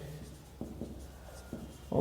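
Pen or chalk writing by hand on a surface, a soft continuous scratching with a few sharper strokes and taps, close and fairly quiet, no voices.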